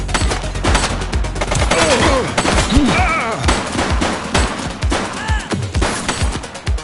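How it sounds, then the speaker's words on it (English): Rapid bursts of gunfire crack repeatedly through a police drama shootout, loud and close, with dense volleys and scattered shouting voices in between. "Shots fired!"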